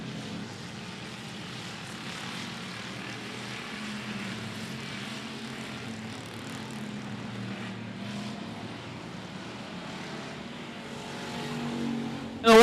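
Pure Stock race cars lapping 105 Speedway during a heat race, a steady distant drone of engines rising and falling as the pack circles, with a sharp louder burst at the very end.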